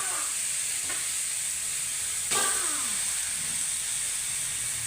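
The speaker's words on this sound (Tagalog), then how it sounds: "Simulan natin sa paglagay ng karne." Meat dropped into a hot pan for Filipino adobong puti, a loud continuous sizzle and hiss with a couple of brief stirring scrapes, steady and close with no talk.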